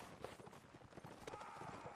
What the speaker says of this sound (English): some horses